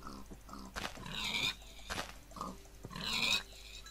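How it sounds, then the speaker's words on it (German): Pig oinks from the video game Minecraft, a few short grunting snorts in bursts at moderate loudness, with no talk over them. "Schweine. Ich liebe Schweine."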